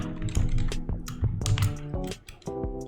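Keyboard typing from a video game demo, with quick irregular key taps over background game music with tonal chords.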